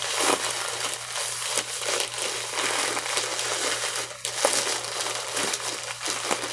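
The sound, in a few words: plastic shipping package folded and crinkled to squeeze out air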